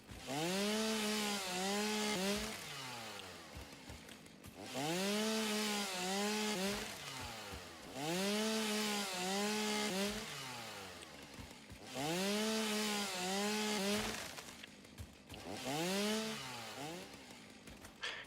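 A chainsaw in the video game Satisfactory revs in repeated bursts, each rising and falling in pitch, about five loud cycles with short gaps between, close and alone without speech.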